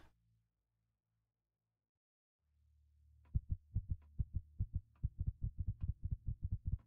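A starving player's heartbeat in the game Empyrion thumps in a steady run of loud, low beats, speeding up toward the end over a low hum, with no talking.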